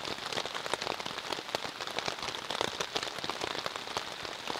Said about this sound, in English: now it's actually full legit raining